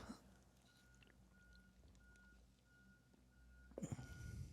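Truck reversing beeps out on a street, a steady thin repeating tone held low under ambient room noise and traffic rumble, with a louder clatter near the end.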